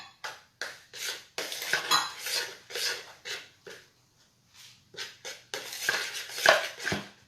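Dry cookie ingredients are stirred together in a bowl, with repeated scraping and clinking strokes of a utensil against the bowl in irregular bursts, close and fairly quiet, with a brief pause midway.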